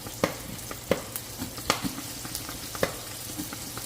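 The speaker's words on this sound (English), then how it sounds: "So I got my onions cooking. I'm going to go ahead and add some minced garlic to this." Onions and minced garlic frying in a pot, a soft steady sizzle with scattered sharp clicks and taps of a utensil against the pot, close and with no talking.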